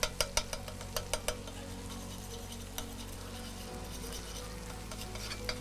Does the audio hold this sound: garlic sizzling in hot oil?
yes